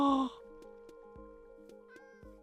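A Minecraft cat gives a single short, bright meow at the start, followed by soft rhythmic in-game tapping and a background music tone.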